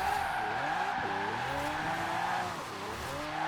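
A rear-wheel-drive Lamborghini Aventador J slides sideways while drifting in Forza Horizon 4, its tires squealing in long wavering howls over a steady engine roar, loud and close without pause.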